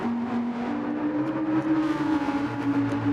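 Racing car engine in a sim racing game at Monza, a steady loud whine with rising and falling revs as the car runs toward the final corner, close and continuous with no voices.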